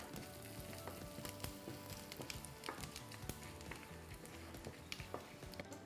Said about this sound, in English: To the pan, I'm going to add jeera or cumin seeds and the rest of our spices and cook them for 30 seconds